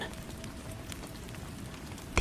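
Gentle rain falls steadily in a soft, even wash of patter on a surface, continuous and unbroken, with a brief louder bump at the very end.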